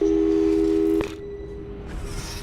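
A steady telephone call tone from the video game Portal 2 sounds loudly for about a second, then cuts off with a click, leaving a quiet hum behind.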